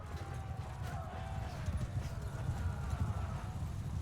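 Cavalry horses gallop into a charge in the Mount and Blade 2 Bannerlord video game, a dense continuous rumble of hooves with faint neighs and clanking gear in a loud battle scene.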